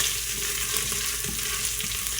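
Garlic sizzles steadily in a hot pan with ginger paste for a Gujarati ridge gourd and moong dal dish, a loud, continuous frying hiss with no one speaking.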